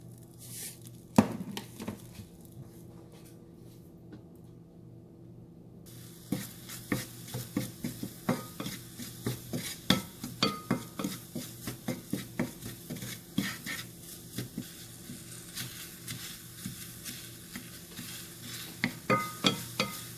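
Blueberries and sugar cooking in a hot pan hiss with a steady low sizzle while a spatula knocks and stirs in irregular clicks that grow busier partway through, close and alone.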